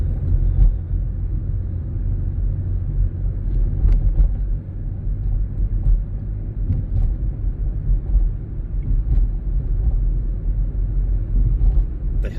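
A car drives through Moraine State Park near Portersville, Pennsylvania, with a steady, close engine and road rumble and faint knocks and bumps throughout. No one speaks.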